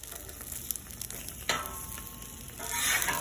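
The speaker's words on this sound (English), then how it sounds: "And now let's flip the eggs over." Eggs sizzle steadily on a Blackstone griddle in Kerrygold butter, a continuous close frying hiss with a sharper scrape and spatter around the flip, then the sizzle swells louder toward the end.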